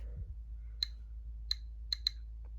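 A Geiger counter near an americium source gives four sparse, sharp clicks at irregular intervals, close and crisp over a low, quiet background hum.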